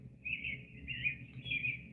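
A bird chirping sound effect: three short, bright bursts of tweeting in steady succession over a faint low hum, fairly quiet and alone.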